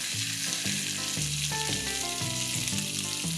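Chopped tomatoes land in a hot pan already holding whole red chillies, cumin seeds and grated ginger for a moong dal khichdi, setting off a steady, loud sizzle with a stirring rhythm running through it.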